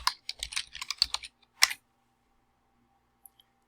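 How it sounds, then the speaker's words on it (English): Quick bursts of keystrokes as a web address is typed on a computer keyboard, close and crisp for under two seconds, ending in a final sharp clack, then near silence. "First thing to do will be type in the URL to find the Apply Now page."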